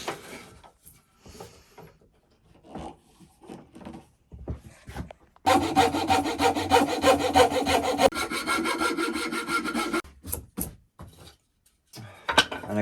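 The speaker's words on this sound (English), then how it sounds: "I'm just going with the rasp again, and then with the sandpaper" A wood rasp shapes a wooden hand plane holder, first in short, scattered scraping strokes, then in a long, loud, continuous rasping burst, before ending with a few quicker scrapes.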